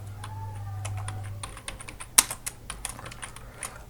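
Someone types on a computer keyboard while working in Microsoft Excel, a quick irregular run of close clicks and taps with one sharper keystroke, no voices.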